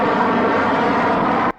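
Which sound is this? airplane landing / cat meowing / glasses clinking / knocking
airplane landing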